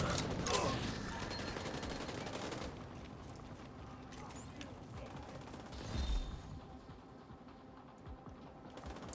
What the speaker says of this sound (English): Just gonna shoot him there